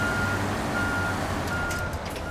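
Steady reversing beeps from a PLAD 440 truck being parked in a truck driving game, a repeating tone over the low hum of the engine, loud and close.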